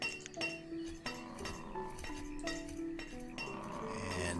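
In Banished, a glassmaker's workshop clinks steadily, roughly eight crisp glassy taps spaced unevenly over a low hum, soft but distinct, with no voices over them.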